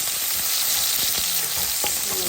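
Sliced ginger fries in a hot pan, a loud, steady sizzle with occasional crackles and pops from the oil, close up and with no voices.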